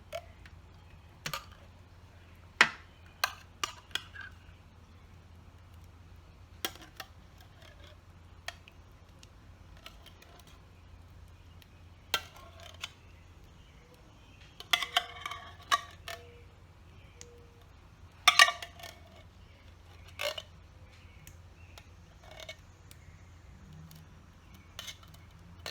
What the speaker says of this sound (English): we are going to scoop our opened cans of cherry pie filling right into the